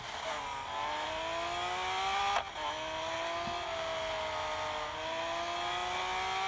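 Race car engine in the Track Day: Valour Among Racers game, steady high-pitched whine that rises and falls as the gas is tapped, with a brief dip and lift partway through; continuous and loud, no talking.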